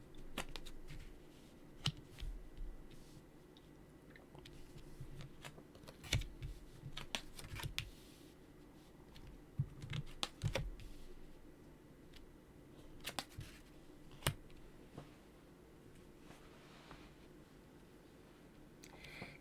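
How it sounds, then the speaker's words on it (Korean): Tarot cards are laid out and flipped on a table during a weekly horoscope reading, giving soft scattered taps and brushing snaps spread across the whole stretch, faint and irregular, with no talk over them. "타로 카드 열어서 같이 살펴보도록 할게요"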